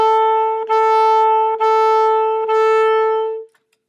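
A saxophone plays four sustained, evenly spaced quarter notes on F sharp, each separated by a brief dip, with no talking; the last note fades out.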